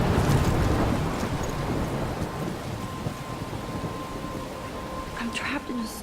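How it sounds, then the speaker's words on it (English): A rainy thunderstorm in the video game Life is Strange, with a steady roar of rain and low rumbling thunder that is loudest at the start and runs continuously throughout. "I'm trapped in a storm?"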